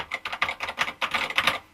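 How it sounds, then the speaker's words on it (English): Steady typing on an MSX home computer's typewriter-style full-travel keyboard, a quick run of close, crisp keystrokes falling in an irregular rhythm with no voices. "They were generally quite nice typewriter style full travel or near full travel keyboards."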